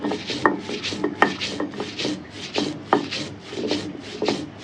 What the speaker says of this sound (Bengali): এই যে আমাদের কালি জিরা সুন্দর করে বাড়ছি